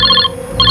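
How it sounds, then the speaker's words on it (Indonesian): Telephone ringing with a bright electronic ring tone, sounding in two bursts separated by a short pause, close and fairly loud with no talking over it. "Bentar, ada telepon."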